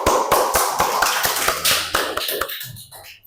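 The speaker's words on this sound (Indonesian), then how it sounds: "Kita berikan aplaus sekali lagi" Classroom applause for a student group: a short burst of rapid clapping from several people, close and loud, fading out after about two and a half seconds.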